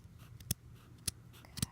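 Scissors snipping off extra fabric pieces, three crisp separate cuts spaced about half a second apart, close and fairly quiet.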